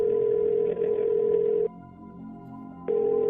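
A phone line rings back with a steady electronic tone, sounding in long bursts broken by a pause of more than a second, heard alone without talk.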